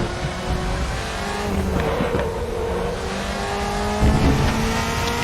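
A DTM race car from the 2003–2005 seasons in the RaceRoom racing game at the Nürburgring, its engine droning loudly and climbing steadily under throttle with a few gear-change dips, with no talking.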